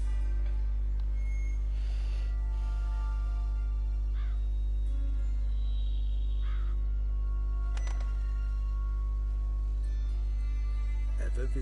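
In The Witcher 3, a crow caws several times at a moderate distance, with its calls scattered through the clip over a steady low game hum, and a voice speaks at points.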